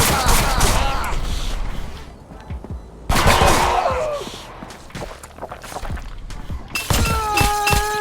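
Gunfire in the Roblox game BlockSpin, sharp bursts of shots with clattering, breaking impacts in loud clusters separated by brief lulls, with a few bright chiming tones near the end.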